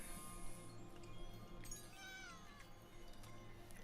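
A cat meows amid a busy background, with a few short, rising cries standing out over steady room noise and no talking.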